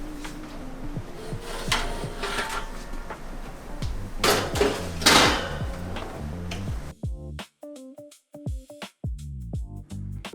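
Metal sheet pan of gnocchi being slid back into an oven in a small kitchen: a string of scraping clatters and clanks, a loud knock near the middle, then several sharp ticks against quieter surroundings.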